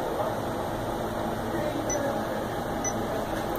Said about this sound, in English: This is the pump that's running on it